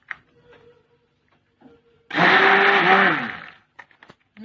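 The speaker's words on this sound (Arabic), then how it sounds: "خلط كلش مع بعض ونمكسيهم بالميكسور" An electric mixer whirs loudly for about a second and a half as it blends crepe batter with a litre of milk, starting abruptly and winding down, with quiet kitchen clatter before and after.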